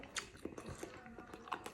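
Close, quiet chewing and biting into hot mayonnaise chicken, a few soft moist crunches and wet mouth sounds in an irregular rhythm, with no talking.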